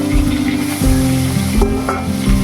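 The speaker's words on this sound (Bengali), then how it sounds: "ধুয়ে নুন হলুদ মাখিয়ে আমরা চিংড়ি মাছটা এদিকে ভেজে নেব" Prawns coated in salt and turmeric fry in a hot pan, giving a steady loud sizzle with stirring scrapes and a few sharper clinks, close and with no voices.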